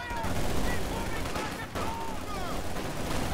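Shock troops fire at close range in the World War II strategy game Company of Heroes 2, a dense, continuous rattle of gunfire with sharp overlapping cracks throughout.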